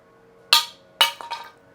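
A vapor polished 3D printed carbon fiber part with a trigger guard hits a hard floor in a drop test, giving a sharp clattering impact followed by a second hit and a few quick bouncing clinks, close and fairly loud.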